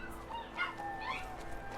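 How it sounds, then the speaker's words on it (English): A dog named Chewy whines in a few high, wavering, drawn-out whimpers, close and fairly quiet, with no voices over it. "Chewy will not bark, but he will definitely whine."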